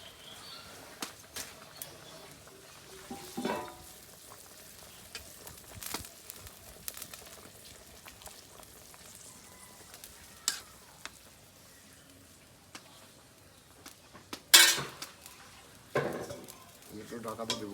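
Pieces of katla fish fry in hot oil in a pan, sizzling and crackling steadily for a long stretch with occasional sharp pops and clinks, while a voice speaks now and then.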